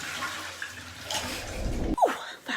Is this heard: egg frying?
no